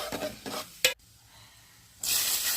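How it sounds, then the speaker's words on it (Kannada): Asafoetida, curry leaves, urad dal and chana dal hit hot oil while cooking poha, giving a loud, sustained sizzle that erupts suddenly after some stirring and scraping noises and a short quiet pause. "ನಂತರ ಅದೇ ಎಣ್ಣೆಗೆ ಚೂರು ಇಂಗು ಹಾಕ್ಕೊಳ್ಳಿ, ಕರಿಬೇವು, ಉದ್ದಿನಬೇಳೆ, ಕಡಲೆಬೇಳೆ 1 ಸ್ಪೂನ್ ಹಾಕ್ಕೊಳ್ಳಿ."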